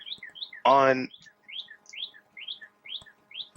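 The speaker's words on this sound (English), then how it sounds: "The bird has entered the chatter." Small bird chirping outside, a run of short bright tweets repeating in a quick irregular rhythm, faint and distant, with a brief burst of human voice partway through.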